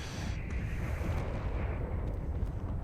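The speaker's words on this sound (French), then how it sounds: "Deuxième explosion, ça pète dur." Heavy explosion rumble in the space combat game Space Engineers, a continuous loud low roar with crackling bursts across the whole stretch, no voices.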